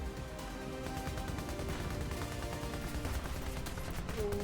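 Dense anti-aircraft gunfire rattling continuously in a WW2 fighter plane video game, a steady barrage of overlapping bursts with no talking.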